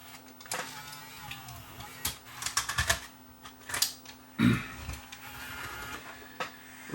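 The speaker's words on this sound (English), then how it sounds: "Well, it's loading a tape." Sony CCD-TR23 8mm camcorder in player mode loading a tape: a run of soft mechanical clicks, whirs and clunks from the tape mechanism, close and fairly quiet, with one firmer thunk near the middle.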